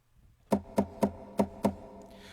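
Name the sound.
knocking guitar-body sound played on Yamaha Clavinova CVP-809 with foot pedal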